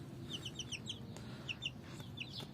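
A light-coloured rooster clucks while held in someone's hands. Short, high, squeaky clucks come in quick clusters over a low background rumble, close by, with no talking.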